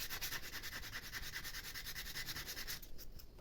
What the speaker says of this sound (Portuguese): vamos para a lixa e vamos ajustando aos pouquinhos até encaixar certinho na carroceria da Kombi